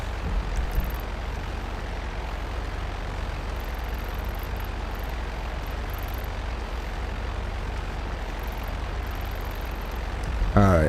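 A fixed-wing plane flies in GTA Online, its engine a steady, loud drone that holds without a break throughout, with faint high electronic beeps now and then.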